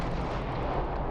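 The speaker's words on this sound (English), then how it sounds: "Particle cannons first, and then the Vanguard autocannons will join in later" Ship particle cannons and Vanguard autocannons fire in a Starfield space battle, a dense, continuous rumbling barrage of heavy booms and blasts with no pause.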